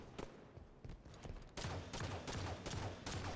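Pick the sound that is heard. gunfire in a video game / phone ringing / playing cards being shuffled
gunfire in a video game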